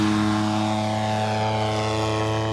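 An EME 60 single-cylinder gasoline engine on a P-47 model plane drones steadily at close range, a loud, even buzzing hum with strong harmonic tones throughout.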